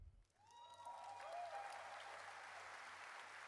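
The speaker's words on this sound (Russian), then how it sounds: "Раздались живенькие аплодисментики" Lively applause from a trade-show audience at Gamescom swells and holds as a steady patter of many hands, heard at a distance and fairly faint, with a brief synth tone at the start.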